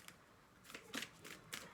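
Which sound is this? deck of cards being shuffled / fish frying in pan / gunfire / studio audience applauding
deck of cards being shuffled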